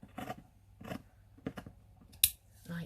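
Scissors snip through a cut-up book cover in a few separate crisp cuts, close and fairly quiet, with one sharper click near the end.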